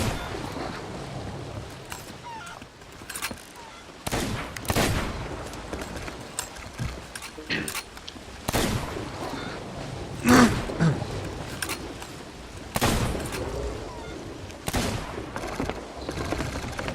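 Ship cannons firing in Sea of Thieves, repeated booming blasts spread irregularly over a steady background of waves and creaking, several shots close and heavy, a few more distant.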